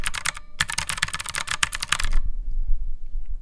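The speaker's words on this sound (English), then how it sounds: "I got this Epic gaming computer as well, or this Epic gaming keyboard" Rapid, dense clatter of typing on a gaming keyboard, loud and close, a fast run of keystrokes lasting about two seconds that stops abruptly, leaving quieter low background noise.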